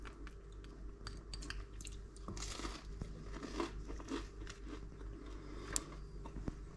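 Someone chews freshly baked focaccia bread dipped in chili oil, producing soft, moist crunching and squishing bites up close that continue steadily with no talk.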